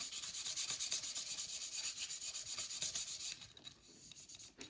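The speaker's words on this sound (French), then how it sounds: "Malheureusement le ponçage au gros grain n'est pas fini" Coarse-grit sandpaper rubbed back and forth over a scale-model roof, a steady run of close, rhythmic rasping strokes that breaks off partway through, followed by a few quieter scratches.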